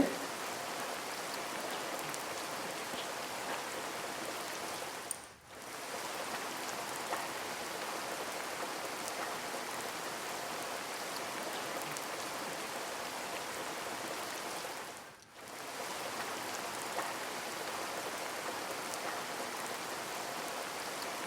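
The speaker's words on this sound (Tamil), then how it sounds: "பயங்கரமாக பெய்யுது" Heavy rain pours steadily on a village in Tamil Nadu after arriving home, a dense, continuous hiss close by with two brief dips, and no voices.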